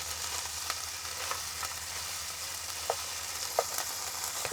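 Chorizo frying in its own oil in a pan over medium-low heat, a steady close crackling sizzle with scattered small pops and spits, no voices.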